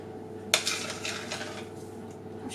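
A large ceramic casserole dish is set down with a sharp clink in a home kitchen, followed by a few lighter scraping and clattering knocks over a low background hum.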